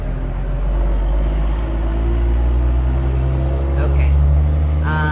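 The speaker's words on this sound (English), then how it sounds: "Sorry, there's a loud truck." A loud truck passes close by, its heavy low engine rumble steady and dominant throughout, swelling slightly near the end, with the roadside noise filling the whole stretch.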